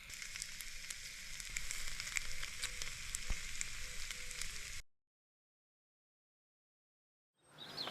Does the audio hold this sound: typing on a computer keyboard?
no